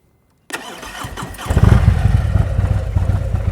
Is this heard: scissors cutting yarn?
no